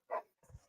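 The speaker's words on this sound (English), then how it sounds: "Her dog's snapping." A dog lets out a single sharp bark up close, followed by a softer, lower yip or growl, with no talking over it.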